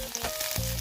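Garlic frying in a small amount of oil in a pan: a steady, close sizzle crackling throughout, with no talk.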